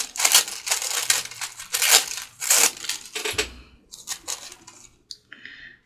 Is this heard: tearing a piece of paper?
yes